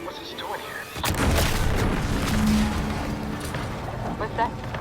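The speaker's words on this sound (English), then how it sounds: "What's that? An explosion?" A sudden deep boom erupts in The Outer Worlds 2, a sharp blast followed by a sustained rumbling roar and debris-like crackle that fills the rest of the moment, loud and close.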